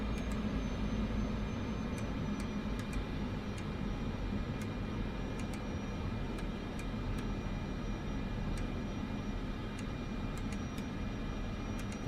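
A turboprop aircraft engine in Microsoft Flight Simulator 2024 produces a steady, dense drone that holds constant throughout, with faint high ticks scattered over it and no speech.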